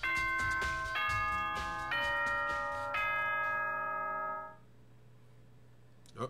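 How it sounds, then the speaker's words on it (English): A synthetic doorbell chime from the Danganronpa video game rings out in a sequence of four bright, sustained tones, then a long decaying tail fades into quiet. "Oh, ding dong, bing bong."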